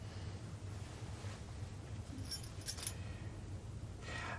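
A set of keys jingles briefly in a quiet domestic room, faint metallic chinks over a low background hum, with no voices.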